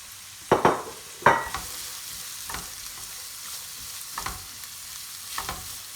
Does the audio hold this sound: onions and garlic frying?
yes